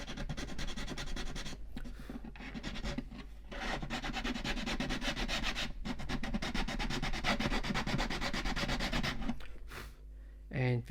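Hand sanding of classical guitar wood, long steady rubbing strokes running almost continuously with a few short pauses between passes, close and fairly loud, ending with a brief soft knock.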